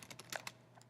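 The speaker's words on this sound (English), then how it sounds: "I'm typing in very specific keywords." A few quick, soft keystrokes on a computer keyboard, faint and close, clicking in an uneven rhythm as keywords are typed.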